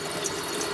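A steady stream of sink water splashes onto Under Armour HOVR Dawn hunting boots in a waterproofing test, an even, close rushing patter with nobody speaking.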